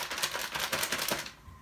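Scissors snip dried egusi melon seeds pressed down in a bag, a quick run of crisp, rhythmic cuts close up that stops abruptly.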